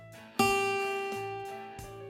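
A guitar's high E string fretted with the third finger sounds a G note, plucked firmly once and then repeated softly a few times, close and unaccompanied by voices.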